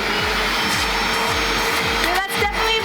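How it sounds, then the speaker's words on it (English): A couch upholstery cleaner runs its vacuum with a loud, steady whirring drone, while a rhythmic pulsing repeats roughly every half second, close and continuous. "that's definitely a vacuum"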